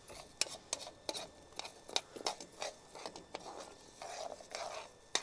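Spoon stirring and scraping the bottom of a cooking pot in a home kitchen, a series of short irregular scrapes and clinks at close range, quiet and steady with no talking.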